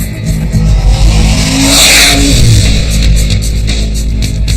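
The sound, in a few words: Ferrari 599 engine revving during test drive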